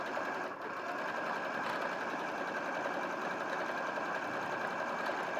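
A sewing machine stitches crisscross lines over earlier rows of stitching, giving a continuous, dense mechanical whir at an even level throughout, with no talking.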